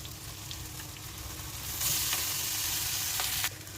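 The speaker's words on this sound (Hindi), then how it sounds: "इसको 5 मिनट तक हम अच्छे से फ्राई करेंगे।" Cabbage, green onion and rice stir-fry together in a pan for fried rice, a steady close sizzle that swells louder midway, with occasional scraping clicks of stirring.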